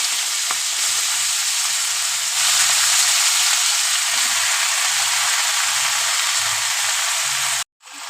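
Spinach sizzling in a hot pan while cooked for a Bengali-style curry: a steady, loud frying hiss that holds evenly throughout with light stirring clatter underneath, ending abruptly.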